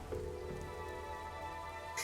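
Steady rain falls in the Darkside Detective video game, a soft, even patter with a faint low rumble beneath, ending in a brief sharper accent.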